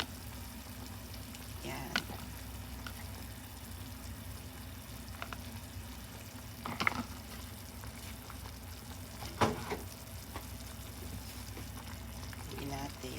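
Potatoes cooking for nikujaga in a pan give a steady low frying sizzle throughout, with a few brief stirring knocks, under a voice speaking now and then.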